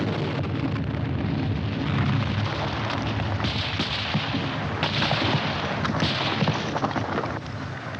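Sustained gunfire and artillery-like blasts from a 1951 war film about Japanese-American soldiers, a dense, loud barrage of overlapping shots and bursts running continuously throughout.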